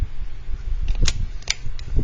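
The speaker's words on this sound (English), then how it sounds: "I have the fan on because the air conditioner is not working again" Electric fan running in a seventh-grade classroom whose air conditioner has failed, a steady low whir filling the room, with a few sharp clicks or taps standing out briefly over it.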